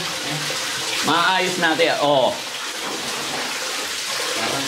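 Water runs steadily from a tap as a continuous close hiss, with a person talking over it briefly in the middle.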